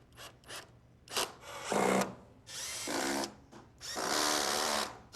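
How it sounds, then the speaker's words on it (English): Power drill driving and stripping screws into wood during a home handyman project, with several bursts of whirring and grinding separated by short pauses, close and fairly loud. "Dan is methodically stripping his screws"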